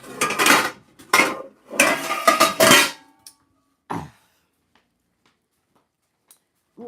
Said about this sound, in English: Now, we're going to go ahead and get our pan.